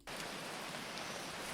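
Steady rainfall in a PC game set on a journey to Lucknow, a constant even hiss of rain on surfaces, moderate and unbroken with no talking.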